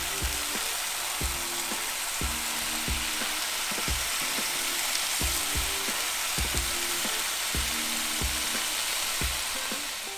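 Five spice pork patties sizzle steadily in a dry pan with no oil, with a constant frying hiss and repeated rhythmic clunks under it.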